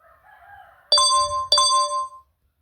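'SMS receive' phone ringtone from a Zedge collection: two crisp bell-like dings about half a second apart, each ringing out briefly, with a faint rustle just before and a soft low rumble under the tones.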